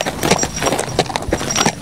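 Hooves of a tame old horse being ridden at a former Dutch cavalry base on the slopes of Mount Ungaran, a steady run of clip-clop steps close by with light rustling between.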